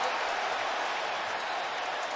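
A football stadium crowd roars on third down, a dense, loud, steady wash of cheering and clapping with no break.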